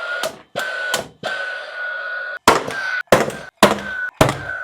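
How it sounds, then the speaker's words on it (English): A powder-actuated spit gun fires metal fire-rated D-line conduit clips, a series of about seven sharp, loud close bangs in an irregular rhythm, each with a brief ringing decay. "you can fire them in with the spit gun"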